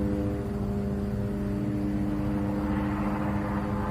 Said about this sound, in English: I'd actually rather hear this fucking drone than that.